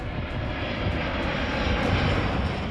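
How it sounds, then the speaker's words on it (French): An Air China Boeing 747 engine roars steadily and loudly as a dense, continuous drone, with no voices over it. "il utilise un Boeing 747 de la compagnie Air China"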